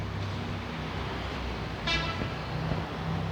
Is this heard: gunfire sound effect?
no